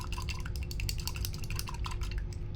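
A paintbrush loaded with acrylic paint is swished and rinsed in a water jar, giving soft continuous splashes and light clinks against the glass, quiet and close with no voices.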